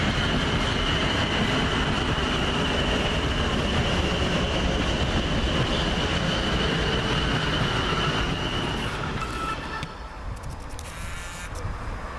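A Class 450 electric train pulls into Havant station, a loud steady rumble of wheels and motors with a high whine running through, easing off as it slows near the end.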